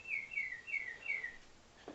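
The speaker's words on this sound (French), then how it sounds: "J'ai un oiseau qui chante à chaque heure." A cuckoo-style clock chimes the hour with a bird song: four quick, bright, descending chirped whistles in a steady rhythm, faint and alone in a quiet room, then a soft thump.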